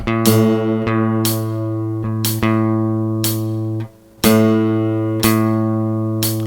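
A single guitar's A string is plucked repeatedly during tuning, slightly sharp, each note ringing out and decaying before the next pluck, with a steady sustained pitch and a brief gap midway.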